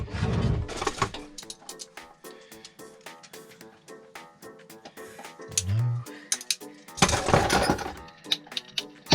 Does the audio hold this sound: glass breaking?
yes